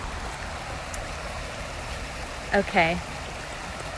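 Water flowing steadily along the LA River, a soft continuous rush that holds at an even level throughout, with a brief voice cutting in near the end.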